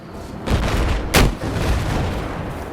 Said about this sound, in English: I'll fire a rocket at him.